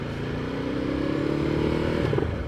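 Ducati Multistrada 1260S with an aftermarket exhaust, a steady, loud engine drone with a throbbing low-end rumble that rises slightly in pitch, heard up close.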